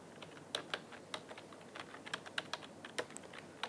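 Someone types on a computer keyboard while editing a Google Drive spreadsheet. The keystrokes are soft, close and irregular, with short bursts and pauses, and no voices.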